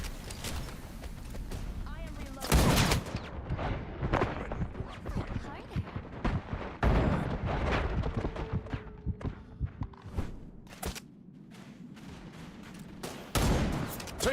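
Gunfire in the shooter Wild Assault, bursts and single shots cracking irregularly among footsteps and scattered game voice callouts, loud near bursts mixed with fainter distant shots.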